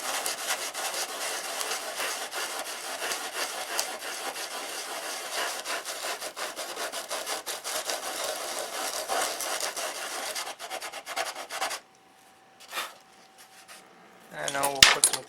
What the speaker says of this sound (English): I think we need a little more aggressive sandpaper